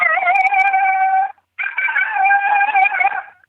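A person imitates a non-aggressive female coyote's yodel howl with a call made of two long, wavering, high-pitched cries separated by a brief pause. The calls are loud and close, with no talk over them.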